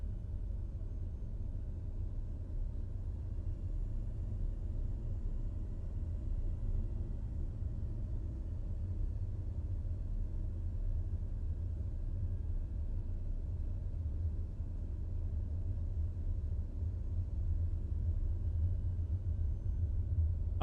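A TBM 930 aircraft taxis under engine thrust in Microsoft Flight Simulator 2020, heard as a steady, low, continuous engine drone with no talking.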